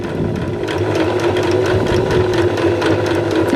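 A sewing machine stitching a pin hem slowly, close and loud, its motor whirring steadily with a rapid, even needle rhythm throughout.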